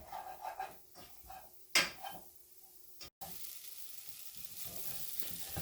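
Onions and spices for a chickpea and potato curry sizzle softly in a pan, with a few stirring scrapes and a brief clatter before the quiet frying hiss settles in, faint and near.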